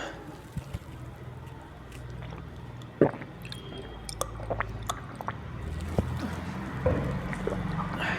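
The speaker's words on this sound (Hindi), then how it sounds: "तब तक मैं भी थोड़ा पानी पी लेता हूं।" A teacher sips water during a chemistry lesson, with soft close-up squishy gulps and swallowing sounds and small clicks scattered over a low background hum.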